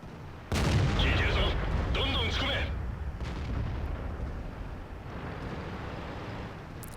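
A tank cannon firing in World of Tanks, a sudden loud blast followed by a long rumbling decay, with a voice talking over the opening seconds.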